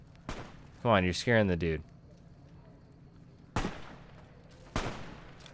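Enemy gunfire in Fallout: New Vegas around Freeside, an early crack followed later by two separate sharp shots, with someone talking between them.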